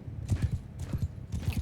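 Horses' hooves clip-clop in the Mount & Blade II Bannerlord video game, with three short bursts of rapid, moderately loud hoofbeats separated by brief quieter gaps.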